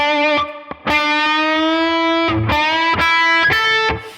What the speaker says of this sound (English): I'm going to start by doing a full step bend on this 3rd string 7th fret